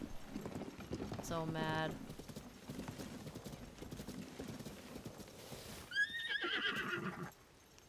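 A horse in Zelda: Tears of the Kingdom whinnies and clip-clops across the ground, a harmonic neigh early and another near the end, with people talking over the game sounds throughout.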